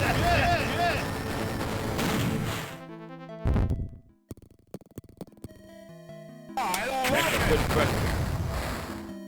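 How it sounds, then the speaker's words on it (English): A bomb detonating in the 16-bit action RPG Beyond Oasis, with loud game explosions and sharp impact bursts cutting through dense, busy game music that drops out briefly mid-way before surging back. "You throw a bomb at me."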